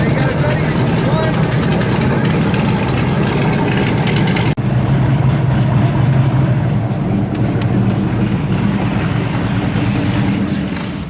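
An airboat's engine drones loud and steady at a slow idle along an Everglades canal on a wildlife tour, a continuous low roar with a brief dip midway, and a voice talks over it.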